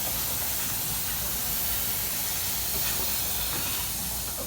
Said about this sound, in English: by opening the pop-up cap, and the air from the balloon, from the balloon will go down